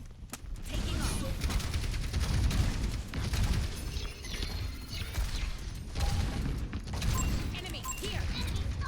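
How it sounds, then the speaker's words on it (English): Rapid McCree revolver fire in an Overwatch match, dense bursts of mechanical gunshots over a busy game mix, with voices talking over the action. "I heard the McCree fire."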